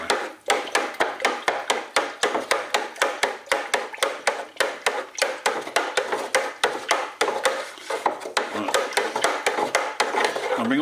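A yeast wash being stirred before distilling, brisk rhythmic scraping and sloshing strokes repeating steadily and close, with sediment stirred up off the bottom.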